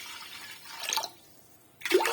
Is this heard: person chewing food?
no